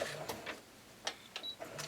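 A sewing machine stitches at a moderate pace, its quiet rapid mechanical clatter broken by sharper ticks as the needle punches through fabric, with no talk.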